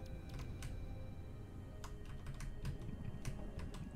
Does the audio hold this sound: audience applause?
no